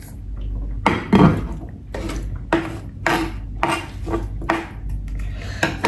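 A knife chops an onion on a board in a condo kitchen, giving a series of irregular, close, fairly loud cutting thumps and scrapes separated by brief pauses.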